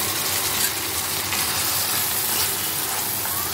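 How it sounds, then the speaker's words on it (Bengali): Ghee poured over a hot prawn malai curry in the pan sets off a steady, close broadband sizzle of frying that holds evenly for a few seconds with no voices. "মাছের উপরে আমি 1 চামচ ঘি ছেড়ে দেবো"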